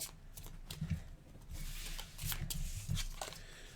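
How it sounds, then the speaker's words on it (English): A deck of playing cards being thoroughly shuffled for the Arkham Horror card game, giving soft close riffles and slaps in a few short bursts, quiet and without talk. "So those need to be thoroughly shuffled"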